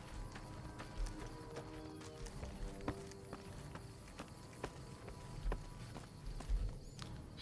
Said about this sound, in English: Heard your footsteps coming up the ramp.